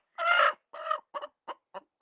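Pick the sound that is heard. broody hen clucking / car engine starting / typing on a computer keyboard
broody hen clucking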